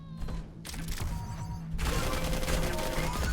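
Rocket launcher fire in a fast arena shooter duel match: a rapid burst of gunfire-like blasts and explosions, building denser and louder in the second half, with no talk over it.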